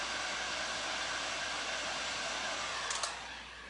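A hair dryer blows at a steady, loud, close hiss while drying paint on a thrifted wooden shelf, then drops slightly in pitch near the end, with no talking.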